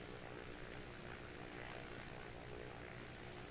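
A propeller aircraft engine runs up on a runway in Microsoft Flight Simulator 2020, a steady droning hum that holds constant and faint throughout.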